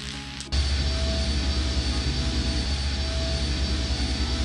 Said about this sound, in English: we need to stop the engines